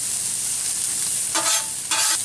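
An egg omelet cooks on a flat griddle over low heat, giving a loud, constant sizzle. Two brief scraping bursts near the end cut through it.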